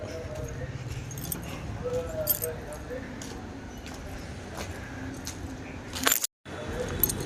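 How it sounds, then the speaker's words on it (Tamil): Shop keys jangle and clink near the microphone, mixed into steady background noise and talking, with a short sharp burst of metallic jingling just before a brief dropout. "இதுதான் நம்ம கடை சாவி"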